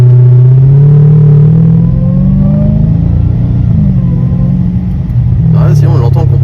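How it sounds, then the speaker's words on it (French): A car accelerating gently, its supercharger whining as the engine note rises and settles in a loud steady drone, with a voice speaking over it. "Ah si, on l'entend le compresseur, hein."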